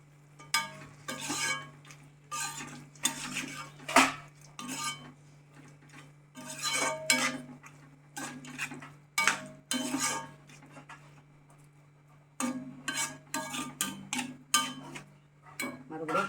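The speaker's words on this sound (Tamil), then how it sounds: "இப்போ இதை கொஞ்சம் நல்லா கலரி விடணும்." A spoon stirs and scrapes a bitter gourd fry in a metal pan, a busy run of clinks and scrapes over a faint sizzle, with one brief pause before it picks up again.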